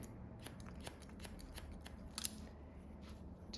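Scissors snip through hair during an A-line haircut, a quiet, close series of quick crisp cuts at an uneven rhythm.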